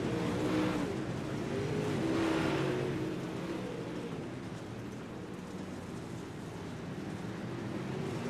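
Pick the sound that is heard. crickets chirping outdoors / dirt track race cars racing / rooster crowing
dirt track race cars racing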